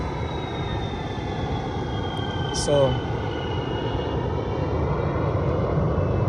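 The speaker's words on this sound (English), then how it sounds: "here's another jet" A distant jet aircraft passing overhead gives a steady broad roar under a clear sky, with a brief spoken word partway through.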